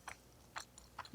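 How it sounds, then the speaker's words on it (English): Biting and chewing a mouthful of bacon and leek quiche with a crispy top, heard as four short, close crunchy bites spaced about half a second apart over quiet background. "So we've got our quiche, and we're gonna give it a try."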